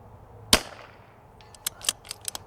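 A single cold-bore rifle shot fired at a steel plate 150 yards away, one sharp close crack followed by a fading tail, then several faint quick ticks and clicks of handling afterward.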